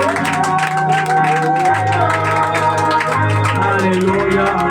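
A church congregation acclaims Jesus with loud cheering and clapping over sustained music, a continuous full-room roar of voices.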